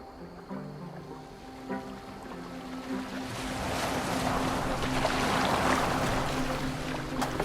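A boat moves across open water in Assassin's Creed Valhalla, with waves sloshing and wind swelling steadily beneath a soft musical drone, with no voices.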